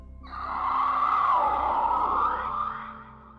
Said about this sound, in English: and he screamed a bit